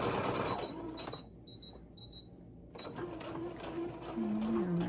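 Sewing machine stitching a straight seam on a Halloween tote bag: a fast, even mechanical whir with rhythmic needle clatter, close by, steady and continuous through a short run.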